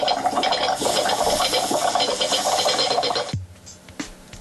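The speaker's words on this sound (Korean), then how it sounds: "찌개가 끓다가 넘치는 소리가 완성됐습니다." Foley of stew boiling over, built by layering a plate rubbed across a glass with a soldering iron hissing on wet tissue: a dense, busy bubbling and sizzling wash that cuts off abruptly, leaving a few faint clicks.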